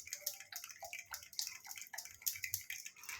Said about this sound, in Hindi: पहले हम इसमें आधा गिलास पानी डालते हैं